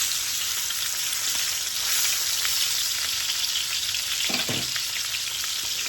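Cajun-seasoned pork chops sear in a hot pan with a steady, loud, dense hiss that carries on without a break, plus one brief knock near the end and no talk.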